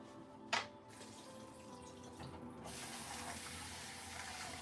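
Murky water from washing rice pours out into a kitchen sink, a soft splash followed by a steady, quiet running trickle.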